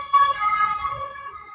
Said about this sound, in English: ambulance going by